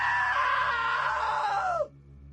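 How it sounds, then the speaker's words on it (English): A loud, sustained scream from the video game What Remains of Edith Finch, holding strong for nearly two seconds before breaking off sharply into a quiet hum. "Now that was a great scream"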